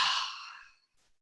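A single long, breathy exhale during a body rolling workout, loud at the start and fading away over about a second.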